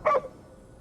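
A single short dog bark from the video game Ghostwire: Tokyo, one clipped, close bark that fades quickly into a faint background hum.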